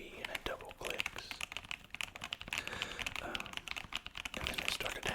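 Close, rapid clicking of fingers typing on a cleaned computer keyboard, soft crisp keystrokes in quick irregular runs, with a quiet voice speaking underneath.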